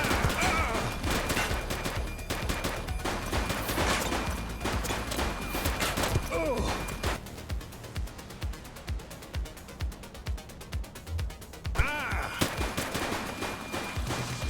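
Steady, dense gunfire during a police shootout in The Precinct, with rapid automatic bursts giving way to a run of separate, evenly spaced shots, loud and close throughout.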